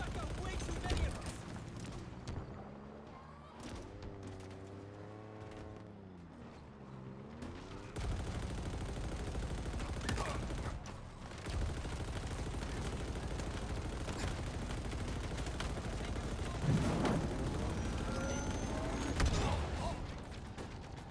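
Sustained machine gun fire in Halo Infinite, continuous rattling bursts over layered combat noise and mechanical clatter, with tonal game sounds in the early part and sharper shots later.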